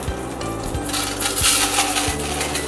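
Basmati rice roasting and being stirred in a pan, with scraping and rattling of the grains and utensil against the metal, several distinct scrapes over a steady background.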